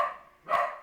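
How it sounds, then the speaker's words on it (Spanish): A pet dog indoors gives two short barks, close and moderately loud, about half a second apart. "Amor, guarda ese perro, por favor."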